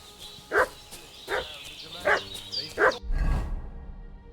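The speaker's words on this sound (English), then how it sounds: "What's that dog making such a fuss about?" Dog barking in the medieval game Kingdom Come Deliverance 2: four sharp, evenly spaced barks over a steady ambient bed, followed by a dull low thud-like rumble, no talk.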